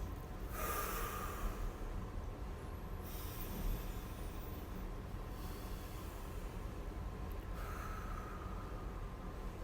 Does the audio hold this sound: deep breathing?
yes